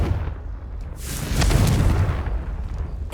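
An explosive Confringo spell cast in Hogwarts Legacy, heard as a broad rumbling burst that swells midway and lingers with a low boom and crackling tail, fairly loud and alone.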